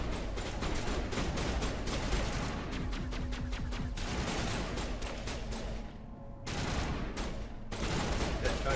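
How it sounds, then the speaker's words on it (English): Bursts of rapid gunfire hitting walls during a firefight in the video game Mass Effect Legendary Edition, with repeated volleys, brief gaps and loud crackling shots throughout. "all shooting at walls now."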